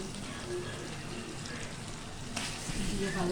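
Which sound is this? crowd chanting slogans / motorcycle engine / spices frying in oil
spices frying in oil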